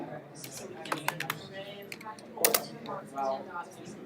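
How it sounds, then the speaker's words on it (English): Fingers type on a computer keyboard in irregular bursts of sharp clicks, close and fairly quiet, with a voice speaking in between. "It's hard to use this keyboard."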